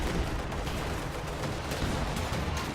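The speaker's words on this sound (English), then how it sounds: "Stolen field gun and Volksgrenadier squad deal heavy damage to that T-34" Cannon and small-arms fire from a captured field gun and an infantry squad hammering a Soviet T-34 tank in a real-time World War II strategy game, dense overlapping bursts of shots and explosions sustained throughout, no talking.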